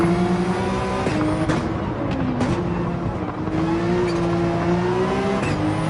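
Toyota Supra GR3 race car racing in Gran Turismo 7, its engine droning loudly and steadily with shifting pitch and occasional tire noise, close and continuous with no talking.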